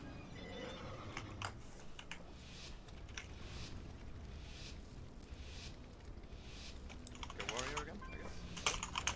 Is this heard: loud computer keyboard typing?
yes